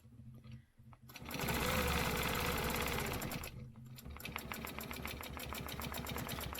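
A sewing machine fitted with a hopping foot stitches in a fast, rhythmic chatter, stopping briefly partway through and then resuming a steady run of stitches, close and fairly loud.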